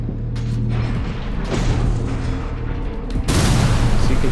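Rockets and missiles firing in the mech game Armored Core VI: a dense, continuous rumble of launches and booms, growing louder and brighter in a heavier burst toward the end.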